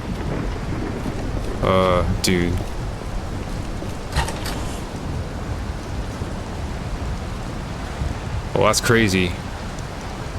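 A radiation storm rolls in across a Project Silverfish game landscape as a dense, roaring wash of rain-like noise with low rumbles, steady and enveloping, while someone speaks briefly over it.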